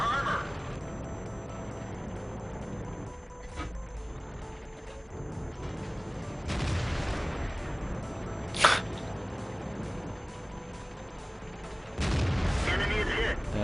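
Tank cannon shots and armor hits in a World of Tanks-style battle game, with a sharp crack near the middle and heavier booming bursts at the start, around six seconds and near the end, all under continuous game noise and talk.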